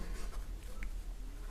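Hand writing on paper during a Class 12 English grammar lesson, a continuous soft scratching against steady background hiss and hum, with no voices.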